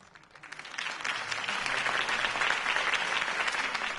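Steady crowd applause and clapping inside a Batman Telltale video game scene, building over the first second and then holding at a dense, moderately loud level throughout, with no voices heard.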